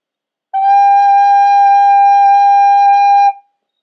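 One bright, steady note G blown on a wind instrument, held evenly for around three seconds and then cut off, alone in quiet.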